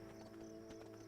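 Horse hooves in the video game Kingdom: Two Crowns clop in a soft, regular walking rhythm, faint and a little distant, over a steady game music bed.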